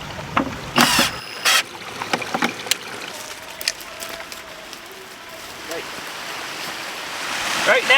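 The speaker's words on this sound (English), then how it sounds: "Right now the water is going through our drain out and not through our filter box" Water rushing out through a drain at a tiny house, a steady gurgling wash with splashy bursts and knocks, close by, with people talking over it.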